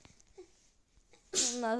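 A single sneeze bursts out near the end after soft breathing and faint sounds, loud and close, trailing into a short voiced tail.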